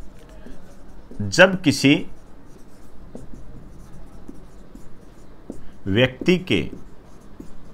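A line of text being written by hand during an astronomy lesson, a steady soft scratching of strokes running throughout while a teacher speaks in two short bursts.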